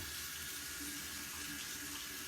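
Steady broadband rush of running tap water as a paintbrush is rinsed and cleaned of oil paint and linseed oil, continuous and even throughout, no voices.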